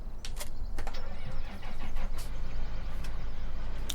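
A tractor engine in the Farming Simulator 17 video game, a continuous, steady low rumbling drone with a few brief higher clicks, no talk.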